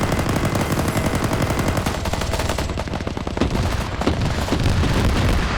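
Video game BTR-80A armored vehicle firing into a compound, loud sustained automatic cannon and gunfire with heavy booming impacts, dense and continuous throughout with no talking.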